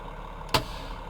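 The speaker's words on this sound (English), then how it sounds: "Parking brake, please." A truck's parking brake set in American Truck Simulator, one short sharp pneumatic hiss-pop over a low idling engine hum, otherwise quiet.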